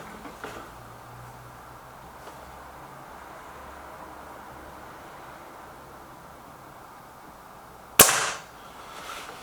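A Crosman Silverfox Nitro Piston air rifle fires a single sharp, loud crack that stands out after a long stretch of quiet background hiss.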